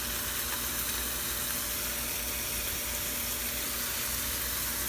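Omelette egg mixture frying in a hot pan, a steady close sizzle and crackle running evenly throughout with no talking.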